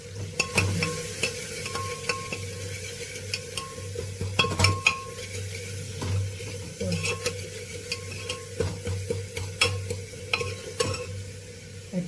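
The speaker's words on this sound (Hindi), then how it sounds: "जीरे का तड़के का, ओनली जीरे का तड़के का" Cumin seeds sizzle in hot oil for a tadka in a home kitchen, a soft steady frying hiss under frequent metallic clinks and scrapes of a spoon stirring in the pan.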